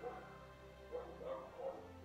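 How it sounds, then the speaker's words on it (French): Neighbour's dog barking somewhere nearby, a few short muffled barks around the middle of the stretch, faint and distant beneath room tone with no one talking. "Vous entendez le chien du voisin? Il fait ça tout le temps."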